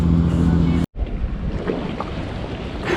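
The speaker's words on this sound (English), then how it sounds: "this boat right now is going to ruin all of the water being slightly calm" A boat passing on the river in London: steady rumbling engine and wash noise with wind buffeting the microphone, a brief dropout, then continued rushing water and wind.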